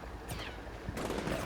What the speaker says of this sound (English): They're shooting at us